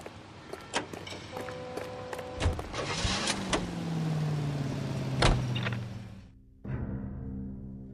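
A car in LA Noire, heard as a steady motor hum with a rising whine, door and mechanism clunks, and sharp clicks, then a thud and a quieter idle at the end.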